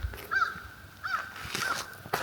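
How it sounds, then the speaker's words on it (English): Crows cawing in open country on Michigan's Keweenaw Peninsula, three or four harsh calls spaced about half a second apart, moderately distant over quiet background. "The sounds of birds."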